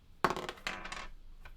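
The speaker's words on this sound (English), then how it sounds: "So we're going to re-roll the dice first." Dice from the Dice Town board game tumble and clatter onto a table in a quick rattling burst, followed by a second shorter roll and a faint final click, close and alone.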